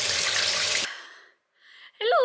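A household shower runs in a loud, steady hiss of spraying water that cuts off abruptly, followed by a brief lull and a short vocal sound.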